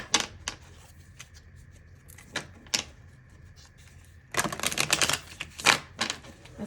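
Tarot cards are handled and shuffled close to the microphone: separate crisp snaps and flicks, then a denser burst of riffling card noise, with no speech.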